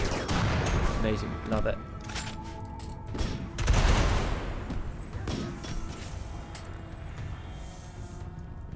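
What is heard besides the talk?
gunfire from colonists shooting in the video game Rimworld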